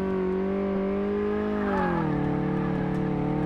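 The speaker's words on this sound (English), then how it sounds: "You guys let me know if it's too loud on the suspension test" Simulated car engine during a suspension test in Car Mechanic Simulator 2018, a loud sustained tonal drone that dips in pitch partway through, heard alone without talk.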